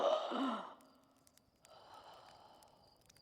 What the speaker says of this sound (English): I do like that they wake up with that particular, like, gasping wake-up sound.